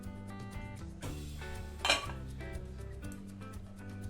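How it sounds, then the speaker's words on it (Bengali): A lid comes off a pot of simmering amla murabba with a bright metallic clink midway, surrounded by soft rattling of pots and utensils close by, no speech. "ঢাকনিটা তুলে দিয়ে দেখে নিচ্ছি কি অবস্থা আছে"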